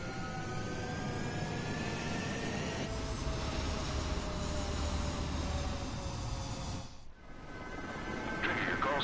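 Jet aircraft roaring steadily on the runway during takeoff in Ace Combat 7, a loud continuous engine rumble with whining tones that dips briefly near the end before swelling again.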